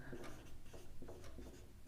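Pen scratching across paper while working a Class 10 maths problem, faint short strokes in quick irregular succession, quiet and close with low room hum.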